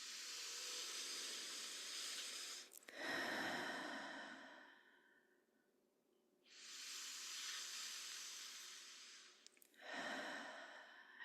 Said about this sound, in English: And we're just slowly breathing in, 2, 3, and exhale.